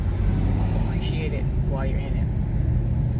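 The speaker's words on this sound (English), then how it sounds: "because traffic is moving" Steady low engine rumble and road noise from inside a car moving through traffic, continuous throughout, with someone talking over it.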